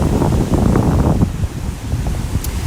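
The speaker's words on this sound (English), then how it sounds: "we're starting to see the waves breaking over the rocks here" Waves breaking over rocks at a Sydney rock pool near Manly in early morning, a broad close wash of surf that surges then eases into a steadier rumble, mixed with wind noise on the microphone.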